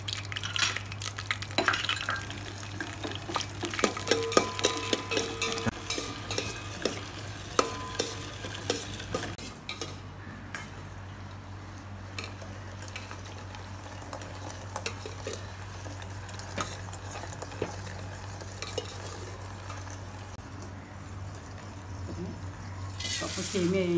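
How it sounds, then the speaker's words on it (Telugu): Cashews are stirred in two spoons of hot ghee, giving a low sizzle under scraping, clinking spoon strokes against the pan, busy at first and calmer later. "జీడిపప్పు వేయించుకుందాం."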